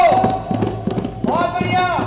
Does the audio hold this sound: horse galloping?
yes